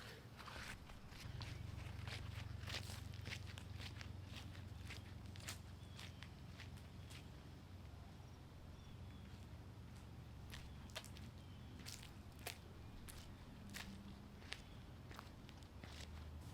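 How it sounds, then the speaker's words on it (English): Footsteps in Brooks Ghost Max 3 running shoes make soft, regular taps and scuffs on a hard floor, about two steps a second and fairly close, under a low steady hum. "Let's do a walk test."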